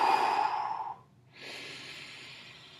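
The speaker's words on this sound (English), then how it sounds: "an easy way to breathe in deeply is blow all the air out first" A person forcefully exhales a long, strong breath, pauses briefly in near silence, then draws in a softer, steady deep breath, close and without speech.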